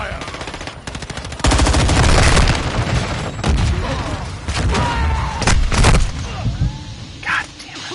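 Modern Warfare II gunfire on PS5 comes as loud bursts of automatic fire and heavy booms, the rattling volleys broken by short pauses, with a voice speaking in between.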